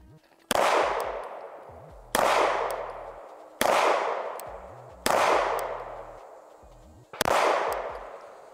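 A SIG Legion P229 pistol fitted with a red dot sight fires five loud, sharp shots outdoors at a range, spaced roughly a second and a half apart. Each crack trails off in a long ringing decay.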